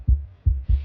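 Heartbeat sound effect: three deep, thudding low beats in a steady rhythm, close and prominent with nothing else around them.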